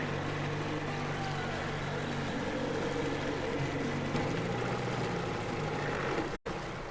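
Steady boat engine droning in the video game Metro Exodus, a continuous rumbling hum that holds level throughout with a brief cut near the end, no voices over it.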